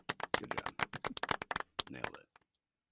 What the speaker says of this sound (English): Even that clap is awkwardly long.